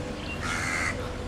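A single crow caws once, fairly close and clear, over a steady outdoor background hiss with no talking.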